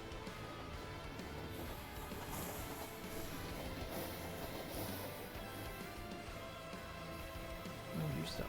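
A Minecraft train rolls past with a low, rumbling clatter, quiet and steady, mixed with faint game ambience and a soft thump near the end.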